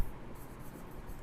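Chalk or marker writing on a classroom board as a spelling is spelled out, a steady scratchy scraping with short strokes, close and fairly quiet, with no talk.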